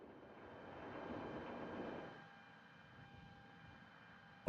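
Aircraft engine roaring on takeoff in Microsoft Flight Simulator, a steady drone that swells for about two seconds and then settles into a quieter, even hum.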